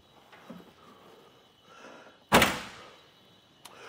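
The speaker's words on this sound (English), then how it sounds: "Since I left the cargo hatch open, I'm just gonna use my tilt feature to get it closed" The cargo hatch of a 2022 Chevrolet SUV shuts after a RockyMounts AfterParty swing-away bike rack is tilted, one sharp, solid slam up close after quiet shuffling, then a faint later knock.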